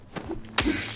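Glass smashes in Silent Hill 2 (2024): a few faint knocks lead into one sharp, close shatter, followed by a bright, tinkling spray of breaking shards that lingers to the end.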